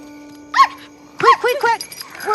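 A dog named Queequeg in The X-Files gives several close, loud barks and yips in quick bursts after a single opening bark, with a faint steady hum beneath.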